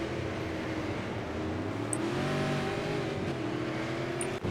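Super Late Model race cars in the iRacing video game drone steadily, engines revving with overlapping pitch lines as several cars run close together, a constant mid-level roar with no talk.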